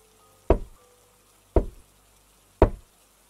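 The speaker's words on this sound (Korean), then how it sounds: "노크 소리였다" Three evenly spaced, solid knocks on a door, each a single heavy thud, close and distinct against near silence, in a horror story setting.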